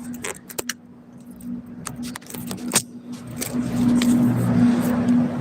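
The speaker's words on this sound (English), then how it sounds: "Turn the car off." Keys jangle in short metallic bursts while a hybrid limousine shuts down, leaving a low steady hum that rises slightly toward the end, with no engine roar.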